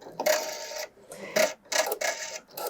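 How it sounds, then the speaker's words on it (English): A Pfaff embroidery machine sewing a placement stitch, giving bursts of rapid mechanical clatter in short runs with brief pauses between them. "the first step is going to be a placement stitch"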